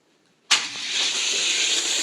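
In a racing video game, a Ferrari Enzo and a blue Ford GT fire up after a brief silence, and their engines settle into a sustained, hissing roar.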